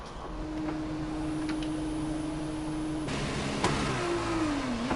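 A Formula 2 racing car engine in F1 2021 on the formation lap at Monza, a steady loud drone with a sustained tone that shifts pitch and dips as the revs change.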